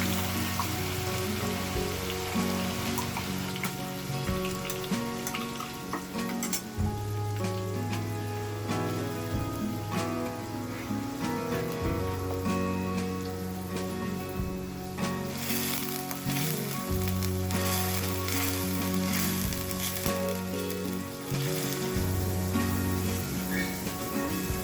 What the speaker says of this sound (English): add chopped or roughly ground onions and saute them until they turn a lovely golden